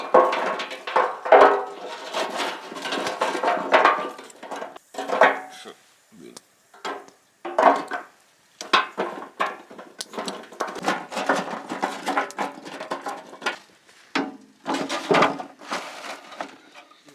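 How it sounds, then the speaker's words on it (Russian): Parts of a portable fish smoker are handled outdoors, with a tray and grill among them. Close, irregular metallic clatters and knocks come in bursts with short pauses between them, and there is no talking. "Готовлю коптильню."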